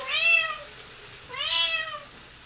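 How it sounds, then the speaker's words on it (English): A pet cat meows twice in a home kitchen, each call a clear rising-and-falling cry about a second long, close and fairly loud with a short pause between. "And there's the cat."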